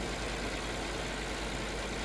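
A small tractor engine in Farming Simulator 2013 runs steadily, a constant hissing drone with a low rumble underneath, even in loudness and uninterrupted throughout.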